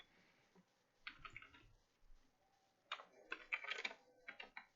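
Quiet bursts of quick keystrokes while typing a message on an app, two clusters of clicking taps separated by a short pause.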